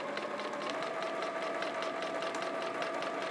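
A Juki Exceed F400 sewing machine stitching straight quilting lines, a fast, even mechanical whir with rapid rhythmic needle ticks running steadily throughout.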